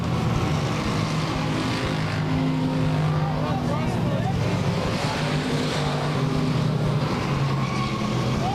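Race cars in weekly racing at Claremont Speedway roar off turn four, a loud continuous engine drone with shifting pitch as they pass, under an announcer's commentary.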